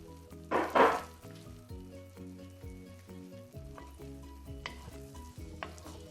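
Egg and izote flower are stirred in a frying pan with a gentle, steady sizzle, a couple of louder scraping stirs near the start, and a faint hum underneath.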